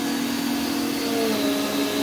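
A Prolux CTX water canister vacuum runs steadily with a loud, constant motor whine and a slight pitch shift partway through, and no voices.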